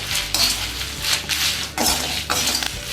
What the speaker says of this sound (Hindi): तो अभी हमारी कढ़ाई गर्म है, तो थोड़ा इसको हिला लेते हैं।